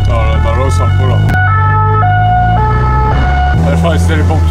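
Emergency vehicle siren passing in Toulon traffic, a loud two-tone wail stepping between pitches over engine rumble and road noise, close by.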